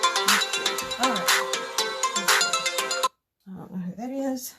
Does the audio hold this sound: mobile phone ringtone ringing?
yes